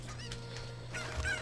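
A cucco chicken in Zelda: Ocarina of Time clucks a few short, squawky times over a low steady hum, with a louder cluck near the end.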